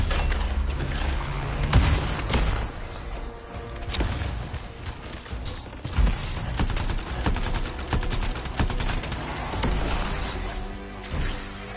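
In Anthem, turrets unleash a loud barrage of rapid gunfire with sharp cracks and crashing impacts, bursting in uneven volleys across the whole stretch with no talking.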